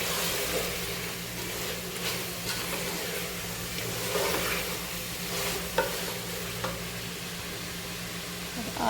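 Dry spices fry in hot oil in a pot for chicken biryani while a spoon stirs and scrapes, a steady sizzling hiss with occasional clinks, no speech.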